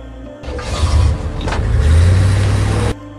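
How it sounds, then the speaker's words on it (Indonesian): A car engine roars to life and accelerates away, the revving swelling in two loud surges before cutting off abruptly, close and alone with no voices. "kemudian ia tancap gas dengan mobilnya"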